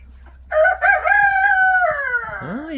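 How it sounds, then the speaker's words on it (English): A young rooster crowing once, close and clear, a strained rising then falling call lasting about two seconds against a quiet background. "Oh, you got a good crow on you already, haven't you?"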